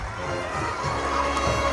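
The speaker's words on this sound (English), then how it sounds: "The Metter fans are cheering" A crowd of Metter high school football fans cheers after a touchdown, a dense, loud roar with shouting voices sustained throughout, heard from within the stands.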